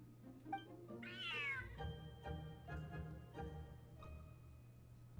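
A cat meows in Genshin Impact, one drawn-out wavering call followed by a few shorter, quieter mews and soft sounds over a low ambient hum.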